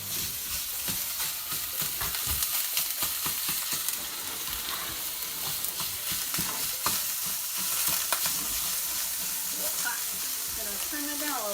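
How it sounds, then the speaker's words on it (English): Turkey sausage frying in a hot pan for a breakfast burrito, a steady loud sizzle with repeated scraping and stirring clatter as a turner breaks the meat apart, continuous throughout with no talk. "once the pan is hot enough, is put in your turkey sausage if you're going to make that"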